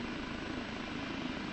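Kiowa Warrior helicopter in the DCS flight simulator, hovering with a steady, dense turbine and rotor drone that stays loud and even throughout with no talking.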